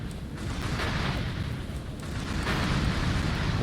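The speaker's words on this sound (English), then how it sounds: "What, the extra large grenade launcher?" Rumbling explosions from an extra large grenade launcher in the video game Ratchet and Clank, a dense continuous booming roar that swells louder toward the end.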